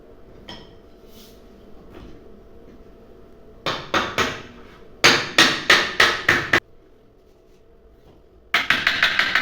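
Wooden pieces of an easy chair being assembled are struck with a hammer in a workshop, bursts of sharp, loud blows coming in quick rhythmic groups of three to six, separated by quiet pauses.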